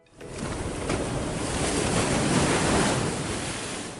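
Sea waves surge and wind rushes at a clifftop by the sea, a broad, loud wash that swells in quickly and holds steady without any voices.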